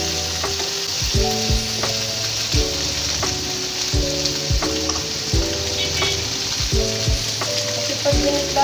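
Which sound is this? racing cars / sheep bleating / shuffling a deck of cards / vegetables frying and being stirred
vegetables frying and being stirred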